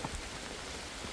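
Rain falling outdoors on a walk, a steady dense patter of drops on surfaces, fairly soft and even throughout the short stretch with no voices.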